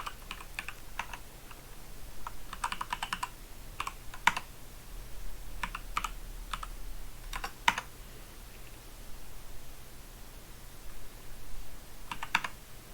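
Keys clatter on a computer keyboard in short bursts of typing with pauses between, close and fairly quiet, as commands are entered and tab-completed in a terminal, with no one talking.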